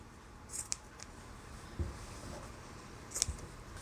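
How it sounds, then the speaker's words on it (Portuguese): Dull scissors snip tufts of yarn on a tufted rug, with two sharp close cuts about two and a half seconds apart and softer handling ticks in between, in a very quiet room. "Eu tô levantando o fio, porque a minha tesoura tá muito cega."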